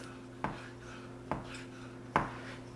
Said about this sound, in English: Just keep your knife on the board and then you just slice it in little thin strips